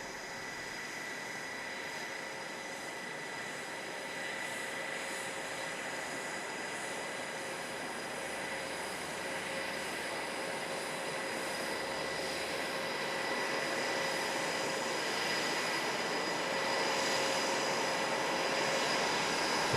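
A small aircraft touches down on the roof of a moving truck at an airshow, its engine a steady distant drone that slowly grows louder, with no talk.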